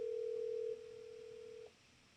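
A phone call ringing out while calling a daughter, a faint steady telephone tone that holds, then drops to a softer tone before cutting off, alone.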